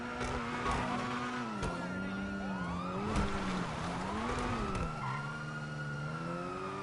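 Wailing police sirens in a car-chase video game, rising and falling continuously over revving engine noise, loud and close, with a voice speaking over them.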